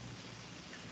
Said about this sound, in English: it's a rainy morning